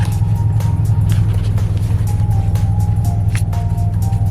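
Steady low engine rumble and road drone fill the inside of a car carrying several passengers on the way to a Yu-Gi-Oh regional, loud and constant, with faint clicks and a thin tone above it and no speech.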